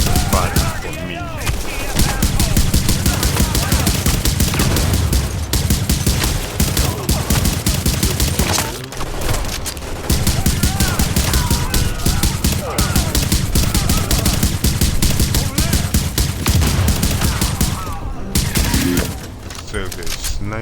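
Automated turrets in The Division open up in sustained rapid gunfire, dense, loud bursts that barely pause over twenty seconds, layered with battle noise.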